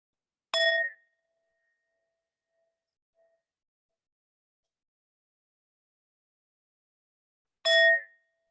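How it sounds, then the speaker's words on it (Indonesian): A meditation bell rings twice during a mindfulness session, each a single clear, bright strike with a short ringing tail, separated by about seven seconds of near silence. "saya bunyikan bel 2 kali lagi ya, takut ada yang ketiduran"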